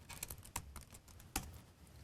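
Password typed on a computer keyboard during a Linux setup, heard as a quick run of light, close key clicks with one sharper stroke near the end, with no talking.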